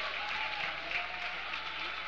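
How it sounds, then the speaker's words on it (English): A high school playoff crowd at a Handley vs Woodgrove quarterfinal gives a standing ovation, dense steady applause and cheering from many people filling the space, with an announcer's voice faintly underneath. "getting a standing ovation from the Handley crowd"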